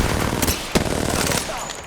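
Rapid gunfire crackles in a video game, several sharp bursts and shots close and loud over a busy background, with a voice faintly present.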